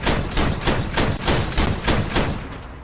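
Heavy vehicle weapons firing in the Crossout combat game, a steady rhythm of loud booming shots about every third of a second, close and continuous with no talking.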